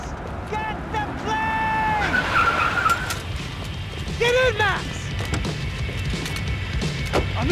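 Car engine and squealing tires skidding during a chase in the video game Max Payne 3, a loud continuous roar with sharp screeches, under game music and people shouting.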